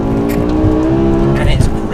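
A BMW E63 M6 with its V10 engine pulls hard in second gear from about 4,000 rpm, a loud, rising, harmonic-rich engine note with someone talking over it.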